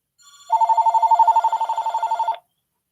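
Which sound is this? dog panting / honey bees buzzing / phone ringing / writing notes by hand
phone ringing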